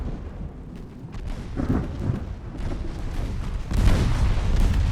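A thunderstorm rolls across the sea in a naval battle game, with steady rain noise and low rumbling thunder that builds into a heavier roll near the end.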